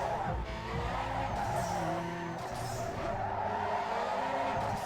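A car skids through an e-brake turn in Need for Speed Underground 2, with a sustained tire squeal layered over a steady engine drone.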